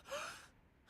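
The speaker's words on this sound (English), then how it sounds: "I gasp as my lungs hungrily suck in oxygen" A single sharp inhaled gasp, close and fairly quiet, rising quickly and trailing off into near silence within a second.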